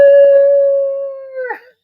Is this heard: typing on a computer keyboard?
no